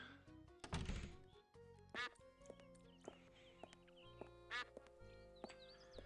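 A duck quacks in the video game Escape From Monkey Island, several distinct quacks spaced across a quiet game soundscape with soft music tones and thunks.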